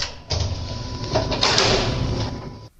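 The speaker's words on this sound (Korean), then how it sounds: "그냥 문을 쾅 닫아버리네요" The door of a shabby basement room in a multi-family house scrapes and bangs shut close by, a sustained rattling slide that ends abruptly, with no talking over it.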